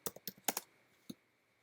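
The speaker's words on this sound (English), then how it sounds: "let's see what we find when we type in makeup" Typing on a computer keyboard while searching an online image library: a quick run of six close, crisp key clicks in an uneven burst, then a pause and one last firm keystroke, with no talking.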